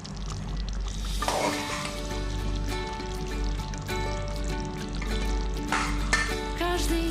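Mixed vegetables frying and being stirred for beef broccoli, with steady continuous sizzling and intermittent scraping stir strokes throughout.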